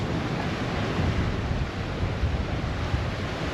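Steady rush of sea waves and wind on the open water beside a cruise ship off the Bahamas, heard from deck 4 as a loud, continuous broadband roar without pauses or voices.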